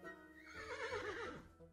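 A horse neighs once in a clear, wavering whinny that rises and then trails downward, fairly close and alone, with no voices over it.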